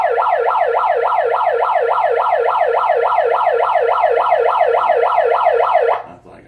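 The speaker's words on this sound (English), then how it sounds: "you guys can use a siren. I can use a siren." A wailing emergency siren cycles rapidly up and down in a steady, loud yelp for about six seconds, then cuts off abruptly.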